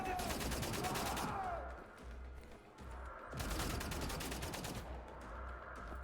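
Rapid automatic gunfire from the video game Wolfenstein: The New Order, loud bursts of sustained firing with a short lull in the middle, mixed with game effects and faint speech.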